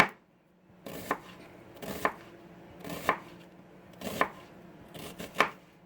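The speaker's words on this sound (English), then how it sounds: "I'm cutting purple onions" A knife slices a purple onion thin on a cutting board, giving five or six evenly spaced, crisp chops about a second apart, close and fairly quiet, with no talking.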